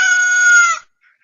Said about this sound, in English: that damn rooster gets me every time